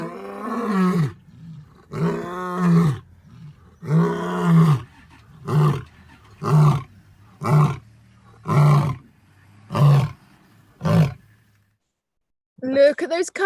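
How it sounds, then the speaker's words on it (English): Lions roaring in the wild, a long run of deep, powerful grunting roars that start drawn out and grow shorter and more clipped, close and loud, with a pause before another burst begins. "The lions have been roaring."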